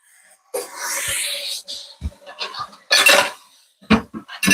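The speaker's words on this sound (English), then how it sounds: "I'm just washing these dishes real quick." Dishes are washed by hand in a home kitchen, with ceramic, pots and cutlery clattering and clinking in loud, irregular bursts nearby, split by short pauses.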